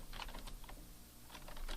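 Keystrokes on a computer keyboard while typing text, a quiet irregular patter of short clicks in quick bursts with a brief pause in the middle, no talking.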